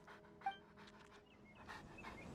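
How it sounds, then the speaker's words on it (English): A dog in a video game pants in quick, soft breaths, close and fairly quiet over faint background game sounds, with no clear barks. "Why are you barking?"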